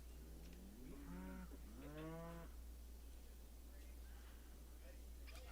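A donkey in the video game RimWorld brays twice in a row, each call a wavering, drawn-out groan that stands out over a steady low hum.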